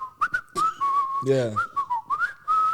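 A person whistles an upbeat tune in clear, bright phrases, pausing briefly while a single word is spoken midway before the whistling resumes.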